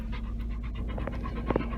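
Gus the dog pants steadily up front in a vehicle after a morning ruck march, a quick rhythmic breathy panting close by over a constant low engine hum.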